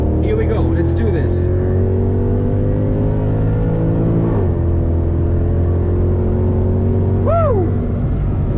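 A Mercedes W204 C63 V8 engine drones steadily while lapping the Nordschleife, heard loud and close from the cabin, with a brief shift around the middle and short squealing sounds near the start and end.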